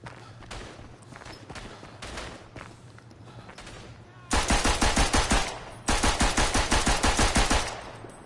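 Machine pistol fire in a World War I Western Front shooter game: two loud, rapid bursts of automatic shots in the second half, following quieter footsteps and low background game noise.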